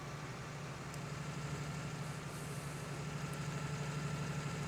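A tractor engine idles steadily in Farming Simulator 19, a low, constant rumble with a faint mechanical hum that holds for several seconds with no talking.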